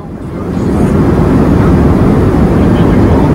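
An airplane bound for Vienna, Austria waits to take off, its engines a loud, steady broadband roar that swells slightly and holds close throughout.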